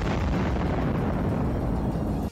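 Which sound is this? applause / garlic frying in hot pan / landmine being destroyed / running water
landmine being destroyed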